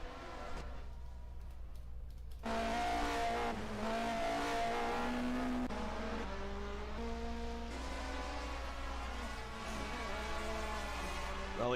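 Onboard race car engine in a racing game set in the 1979 DRM Division 2 round at Bergischer, loud sustained revving with rising and falling pitch through gear changes, close and continuous after a quieter start.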